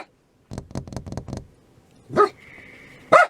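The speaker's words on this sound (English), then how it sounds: "There are prairie dogs everywhere" A prairie dog at Eagle Nest Lake State Park in New Mexico calls in a rapid burst of sharp chirping barks, then after a pause gives two louder, shriller yips, close and alone.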